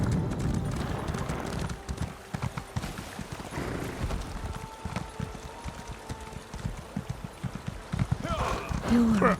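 Horse hooves clip-clop steadily in a fantasy role-playing video game, a continuous rhythmic trot of a ridden mount, near and fairly loud over ambient game sounds, with a brief whinny-like tone near the end.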